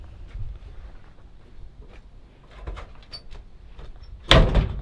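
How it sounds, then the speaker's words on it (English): An old Chevrolet C20 truck door being forced open in a junkyard, with a few scrapes and creaks building to a sharp metallic bang near the end, close and fairly loud, no talking. "Had to rip that door open."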